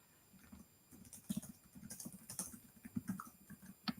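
Rapid, uneven keystrokes on a computer keyboard clatter close by in bursts of tapping, with no talk.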